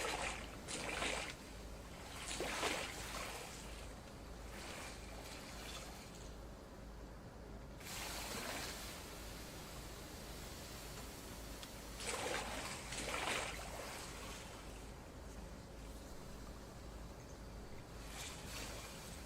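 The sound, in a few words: water flushing sound in the VR video game Pools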